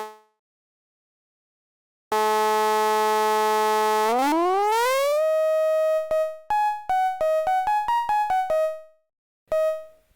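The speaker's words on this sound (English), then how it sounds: "It will play 100 of these a second, and we will get an A note." A synthesized A note, built from a pulse repeated 100 times a second, sounds as a buzzy, harmonic-rich tone. It holds for a couple of seconds, glides upward, then breaks into a quick series of short beeps at shifting pitches.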